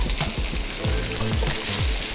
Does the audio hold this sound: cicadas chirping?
no